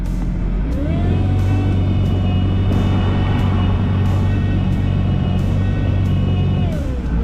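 Kawasaki Ultra 310 jet ski engine running steadily in reverse, a loud continuous drone with a faint pitch rise near the start and a pitch dip near the end, with no voices.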